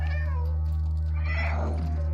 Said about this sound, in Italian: Ho sentito anch'io un miau.